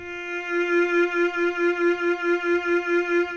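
A bowed violin plays a steady series of short repeated notes on one pitch in first position on the D string, evenly pulsed, close and clear with no talking.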